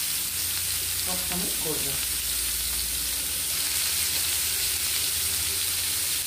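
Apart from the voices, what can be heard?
chicken tandoori sizzling on the heat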